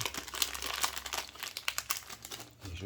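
Crinkly plastic packaging rustles and crumples steadily while a removed 12 mm camera lens is opened, with sharp crackling bursts close up and no voices.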